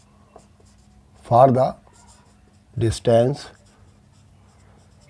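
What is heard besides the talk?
writing a formula on the board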